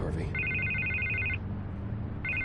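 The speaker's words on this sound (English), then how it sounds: "I can't get the phone to stop ringing." A telephone rings in the Batman Telltale video game, a steady electronic trill in two bursts, the second cutting in near the end, heard over a low murmur of background sound with someone speaking faintly beneath it.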